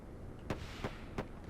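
A turret in the space game Wayward Terran Frontier fires at a ship in three sharp, evenly spaced blasts over a steady rumbling background, with no talk.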